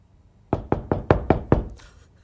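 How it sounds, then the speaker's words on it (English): Six sharp knocks from a neighbor upstairs, evenly spaced and fairly loud, landing in a quick steady rhythm through the ceiling with no voices. "As soon as she hears the slightest noise, she knocks."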